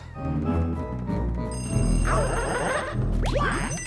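A telephone rings inside the haunted mansion of the video game Luigi's Mansion, its bell-like trill rising over busy game music and effects, loud and repeating across the short stretch.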